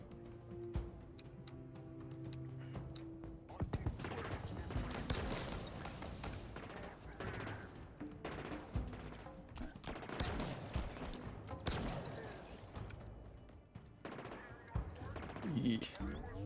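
Rapid automatic gunfire in the Halo Infinite campaign, dense bursts of shots firing almost continuously with short gaps, loud and close, and a voice talking over parts of it.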